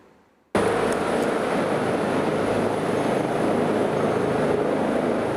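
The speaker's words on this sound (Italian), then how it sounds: "più volte è necessario l'intervento dell'elicottero" A rescue helicopter flies over mountains, a loud, steady rotor and engine roar that starts abruptly after a brief quiet moment and holds unbroken.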